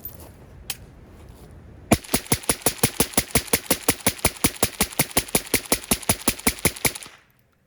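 A single early shot, then a PSA AK103 rifle emptying its magazine in rapid, evenly spaced loud cracks for about five seconds before stopping abruptly, outdoors and close.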